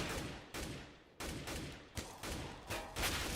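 Bursts of AK rifle fire in Counter-Strike on the Dust2 map during an Astralis vs G2 esports match, several loud sharp reports in a rapid irregular sequence with no talk over them.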